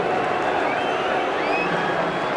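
Large rugby league stadium crowd as Castleford Tigers take the field against Hull KR in 2009, a steady dense roar of many voices with whistles and cheering, continuous and fairly loud throughout.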